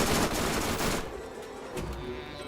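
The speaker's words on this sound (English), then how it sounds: "Fucking sniper rifle." Rapid bursts of gunfire in Borderlands 1, dense and loud for about a second, then a quieter stretch with one more faint report.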